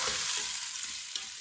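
Tomatoes cook in a pan for biryani, giving a continuous close sizzle with a few soft stirring knocks.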